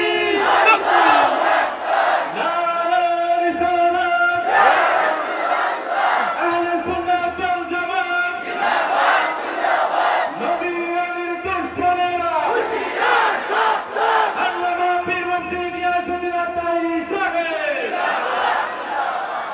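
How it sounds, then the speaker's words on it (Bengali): A large crowd at a Bengali waz gathering chants slogans in loud rhythmic unison, the repeated shouted phrases rising and falling in waves for about twenty seconds, close and dense. "কারা কারা খুশি স্লোগান লাগান"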